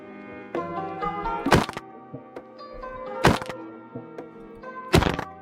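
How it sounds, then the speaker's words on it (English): Three sharp impact cracks land roughly every two seconds in Minecraft PvP combat, as falling critical-hit attacks strike an opponent, each a bright burst over a steady bed of background music. "This attack is performed by using the momentum of your fall to hit your opponent on the way down."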